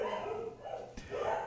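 A dog barking faintly in the background, a few muffled barks with a brief sharp sound in the middle, with no talking.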